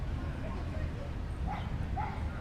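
Dogs yip and whimper in short bursts at a dog run inside a New York City public park, small and somewhat distant, mixed into steady outdoor crowd and traffic noise with voices around.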